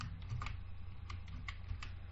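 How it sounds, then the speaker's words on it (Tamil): A computer keyboard is typed on with a few soft, quick keystrokes over a steady low hum while a folder name is entered at a Linux command line, faint and close, with no talking. "அந்த ஃபோல்டர் நேமை டைப் பண்றேன்."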